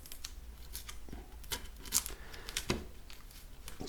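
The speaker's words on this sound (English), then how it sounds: "it's getting the masking tape off" Masking tape is peeled in short tearing strips from a guitar neck during fret work, giving a series of close, crisp rips and crinkles with quiet gaps between them.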